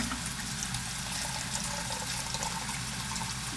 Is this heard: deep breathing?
no